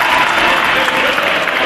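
A crowd applauds at a Pro Wrestling Guerilla show in Burbank, California: dense, steady clapping that fills the room for the whole stretch, with no pause.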